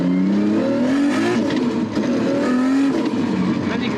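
A Nissan R32 Skyline GT-R with an RB32 engine and Garrett G45-1500 turbo pulls away from a roundabout, its engine note climbing loudly through the revs, easing briefly, then rising again close by.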